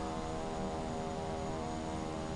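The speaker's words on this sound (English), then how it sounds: "There's a plane getting ready to taxi there as well." A steady, dense engine drone from an airplane preparing to taxi in Microsoft Flight Simulator 2024, a continuous loud hum and whine with no talk.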